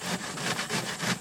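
Fruit rind rubbed over a hand grater to break it up as worm-farm food: a rapid, close rasping scrape repeated in short rhythmic strokes.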